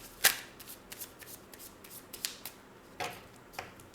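Tarot cards shuffled by hand to draw a single card, heard as a few sharp, close riffling bursts separated by quieter shuffling and soft taps.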